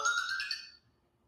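A mobile phone ringtone chirps a short bright electronic melody in quick repeated notes, then cuts off into near silence.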